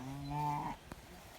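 A single cow in a pasture gives one drawn-out moo that rises and then trails off over under a second, fairly close and clear, followed by a faint thump and quiet outdoor background.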